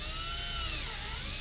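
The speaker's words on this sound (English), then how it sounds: "So I'm gonna drill instead of like that, more like this." A power drill whines steadily, boring a hole into a bonsai tree trunk for a peg graft; continuous, faint, high-pitched motor drone with a slight dip in pitch, no talking.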